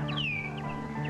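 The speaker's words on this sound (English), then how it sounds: "Then he heard a bird sing." A songbird sings a smooth, sweeping whistled phrase followed by a couple of shorter chirps, clear and fairly close over a steady low background hum.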